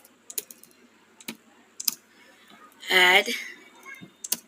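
Python code is typed on a computer keyboard in scattered bursts of crisp keystroke clicks, with a brief spoken word in the middle.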